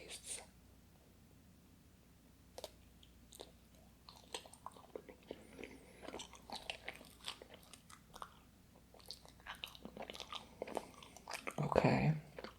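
Close, quiet chewing of strawberry and melon Japanese mochi rice cakes, with soft sticky bites and mouth sounds scattered irregularly, building to a louder crunchy burst near the end.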